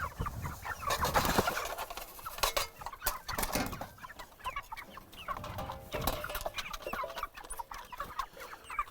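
Laying hens eating organic mash feed on a small Quebec farm, with busy, close clucking and scattered sharp pecking taps, fairly quiet overall.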